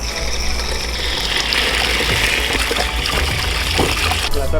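A bicycle being rinsed with a spray of water, a steady, loud hissing gush close by throughout, with spattering as the stream hits the frame and tyres.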